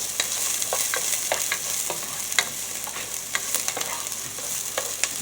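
Onions browning in a pan for low-carb meatballs with marinara, a steady broadband sizzle with scattered crackles and occasional soft clicks of stirring, close and moderately loud, no talking.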